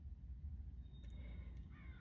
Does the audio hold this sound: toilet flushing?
no